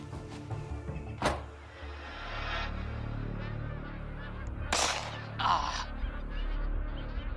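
Magpie geese in Kakadu National Park give loud, sharp honks in two or three bursts over a steady low rumble of background noise, calling close by.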